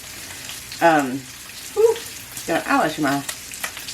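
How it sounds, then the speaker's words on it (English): Bacon sizzling on a griddle, a steady soft frying crackle running underneath a person's speech throughout. "I am cooking bacon on the griddle"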